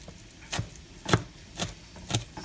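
A knife chops fresh green onion stalks on a cutting board, landing four sharp, evenly spaced thuds about half a second apart, close and fairly loud with a fan humming softly in the background.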